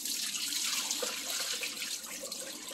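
Water poured over beans to rinse them, a soft, close splashing and trickling stream running continuously and fairly quietly, with no talking.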